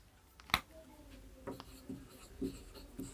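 Chalk or marker writing an example on a board, a run of short scratchy strokes with one sharp tap near the start, fairly close and soft, with a voice faintly present.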